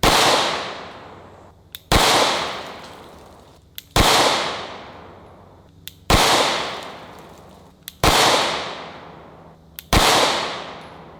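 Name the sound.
pistol gunshots fired at a Sentry Safe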